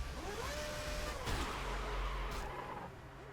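An F1 2010 racing game car spins out after striking a kerb at the Japanese GP, its engine note dropping as the tyres screech and skid loudly, with a rough scrape midway through.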